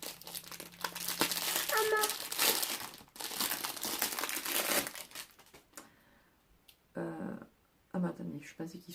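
A cheap blue bracelet is unwrapped from its plastic packaging, giving steady, close crinkling and crushing for several seconds. The rustling then thins out into a few brief, separate handling bursts.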